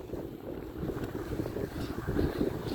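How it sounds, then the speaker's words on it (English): Steady outdoor wind buffets the microphone in a continuous low rumble that swells and eases, with no talk over it. "If you can hear all, it's just freaking wind."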